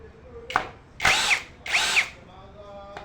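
A power drill drives a 2-inch screw in two loud whirring bursts, each about half a second long. A short spin comes just before them, and the drill sounds close.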